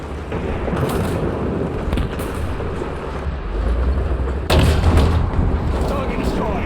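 In the tank game War Thunder, a constant heavy battlefield rumble builds toward a deep cannon blast about two-thirds of the way through, loud and close, followed by more rumbling.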